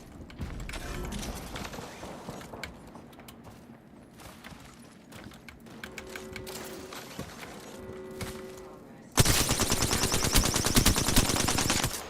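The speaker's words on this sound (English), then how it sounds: "I hear him shooting." Gunfire in the video game Apex Legends: scattered shots and mechanical clatter, then a loud, rapid burst of automatic fire near the end, with no talk over it.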